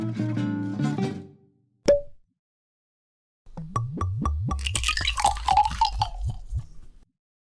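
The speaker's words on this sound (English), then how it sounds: "We're going to pour some wine before we take a deep dive into the local Italian wine grape varieties." Italian white wine is poured from a bottle into a glass: a short clink, then a run of quick, close glugging plops that trail off into dribbles.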